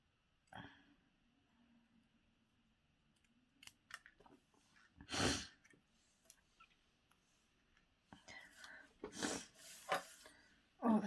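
Scissors snip through paper for crafts, a few isolated crisp cuts separated by quiet gaps, then a denser run of snipping and rustling near the end, close and fairly faint.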